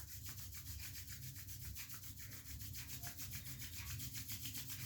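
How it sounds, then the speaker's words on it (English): Palms rubbing together to build heat during a calm relaxation exercise, a soft continuous rhythmic swishing that stays close and quiet throughout, no talking. "Now slowly bring your hands up and rub your palms"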